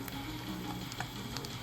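Eggs fry over hard in a pan with a steady close sizzle and scattered small pops and spits.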